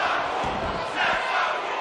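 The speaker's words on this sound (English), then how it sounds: "you hear the discussion of the crowd" Arena crowd noise in the wrestling game WWE 2K22, a steady roar of many voices that swells slightly partway through, filling the whole moment.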